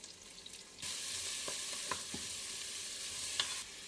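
Sliced onion and garlic dropped into a hot pan, a brief quiet lead-in giving way to a loud, steady sizzle with a few scattered stirring clicks.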